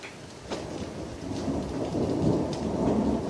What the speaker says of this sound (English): Where's the thunder for that second one?